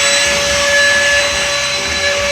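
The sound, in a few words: vacuum cleaner sucking debris out of wall holes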